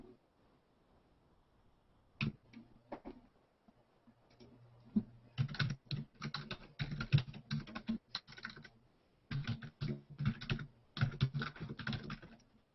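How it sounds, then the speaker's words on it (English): Typing on a Chromebook keyboard, with fast clustered keystroke clicks coming in bursts after a quiet start and short pauses between runs. "I'm just going to type in that URL to reference the server."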